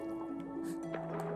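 In Yooka-Laylee, a brief watery squish and splash of a character moving through water plays under steady tonal game music.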